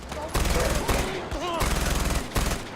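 Rapid automatic weapon fire in the video game Far Cry 4, several quick bursts of close, loud shots separated by short gaps, with game sound effects and some voice in the background.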